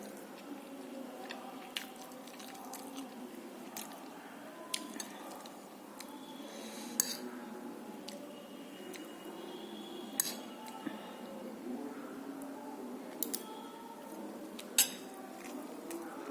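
Cutlery clinks against dishes during a home-cooked meal: sparse, faint metallic taps and scrapes at an irregular pace over quiet room tone, with no talking.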